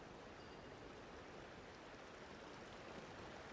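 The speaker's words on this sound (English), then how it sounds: "Oh, a little nice waterfall." A small waterfall in the Genshin Impact video game gives off a steady broadband rush of falling water, constant and even throughout, heard alone without voices.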